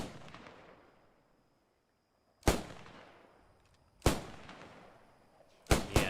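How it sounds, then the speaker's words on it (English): Mortar rounds land in the World War II video game Post Scriptum: three loud, sharp blasts spaced over several seconds, each with a long rumbling decay, the last closely followed by a second impact, no talk. "The allies have just ordered new mortar fire."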